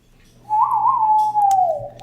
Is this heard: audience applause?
no